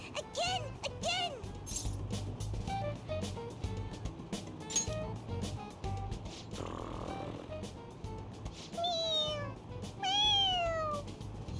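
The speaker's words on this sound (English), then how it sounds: "It meows when you press on its head." A plush toy cat in Persona 5 Royal meows repeatedly when its head is pressed, several short rising-falling mews spread across the stretch, some close together, over soft background sounds and occasional game noises.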